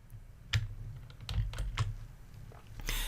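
Keys on a computer keyboard pressed in a short run of close, crisp clicks, Control and Enter held together, several distinct taps spaced unevenly over a quiet room.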